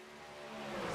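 Race cars in an NSRA Sunday Select event heading down toward turn 3, a faint, distant engine drone that swells steadily louder as the pack approaches.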